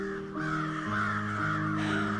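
Crows caw harshly in a video game, several calls overlapping over a steady bed of ambient tones, close and clear.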